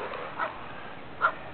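A couple of brief, faint dog yips or barks at a house beside a lawn being reseeded, two short calls spaced about a second apart over steady outdoor background.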